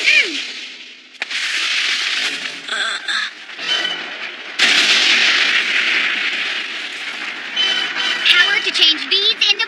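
Anime bead bomb explosions burst out in rapid, loud succession, dense and continuous with sharp popping hits, under shouted voices.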